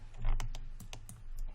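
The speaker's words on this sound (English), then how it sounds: "We'll hit Q on our keyboard" Computer keys clatter in a quick run of sharp plastic clicks and taps during 3D modeling work, close and clear, with no voice over them.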